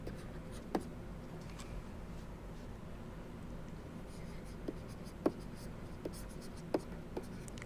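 Chalk or marker writing on a board during an engineering lecture on failure rates, faint scratchy strokes with a handful of sharp taps against a quiet room hiss, with the lecturer talking at times.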